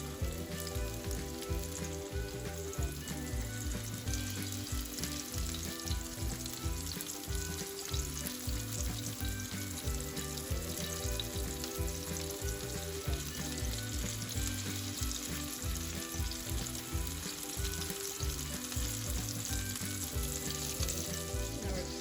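Czech meat patties fry in hot oil in a pan, a dense steady sizzle that runs loud and unbroken throughout, close up, with no voices.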